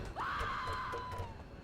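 A single drawn-out scream from a person in the XCOM 2 Long War of the Chosen strategy game, rising sharply then holding a steady high tone for over a second, loud and alone over faint game ambience.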